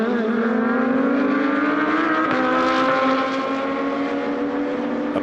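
GT2 race cars at the Paul Ricard circuit roar loudly and continuously, engine notes climbing and shifting as several cars pass through the chicane area close by.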